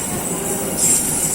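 Train carriages rolling past close by, the last wagon going by with steady rumbling wheel noise and a high squeal of the wheels on the rails.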